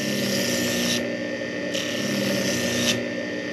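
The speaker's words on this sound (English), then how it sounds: "So let's go ahead and sand this up." A power sander works the dyed, antiqued edge of a leather piece in steady, continuous rasping passes, loud and close, with brief dips in the high hiss as the tool shifts against the edge.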